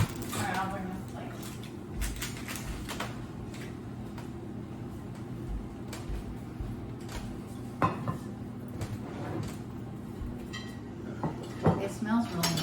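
Dishes and plates clink and rattle close by as a fish dinner with asparagus is plated and served in a home kitchen, with scattered knocks and a few sharper clinks under steady background hum.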